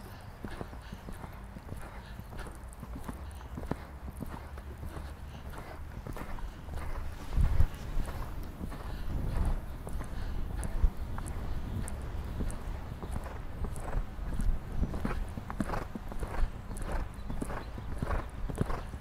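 Horse hooves clip-clopping at a steady rhythmic gait during flatwork riding training, outdoors with some wind noise on the microphone, the footfalls clear and continuous with no talk.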